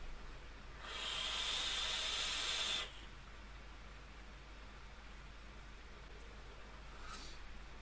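A vape RDA with its airflow opened and running at 90 watts gives a strong, airy hiss lasting about two seconds during a heavy draw, then falls back to quiet background noise with a faint later puff.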